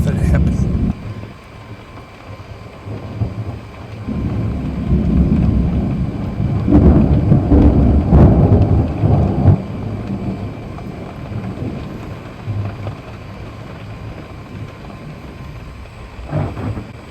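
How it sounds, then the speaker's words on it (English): Night thunderstorm over a West Texas ranch: a long, deep rumble of thunder swells and rolls for several seconds, then fades into a steady wash of rain and wind noise, fairly loud and close. "Quite a storm."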